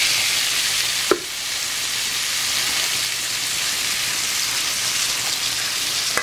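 Tomatoes added to a hot pan of garlic and ginger for a coconut fish curry sizzle in a loud, steady, hissing fry, with one brief clink of a utensil early on and no talking.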